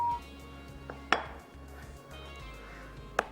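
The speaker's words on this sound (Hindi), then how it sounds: "ये डो हमारी तैयार हो गई। इसको डालते हैं बाउल में।" Maida pizza dough for a peri peri pizza is dropped into a bowl, giving two sharp, close clinks about two seconds apart over a steady low kitchen hum, with no talking.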